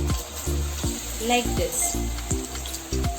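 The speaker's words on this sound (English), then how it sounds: "pour it well in this batter and do a deep fry" Battered chicken pieces for chicken lollipop deep frying in hot oil, a steady close sizzle and bubbling with repeated stirring or scraping knocks at a regular beat, one brief spoken remark over it.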